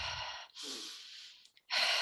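Forceful shamanic breathing done as a demonstration during a ceremony: three loud, breathy bursts, rushing inhales and exhales with short gaps between them and no voice over them.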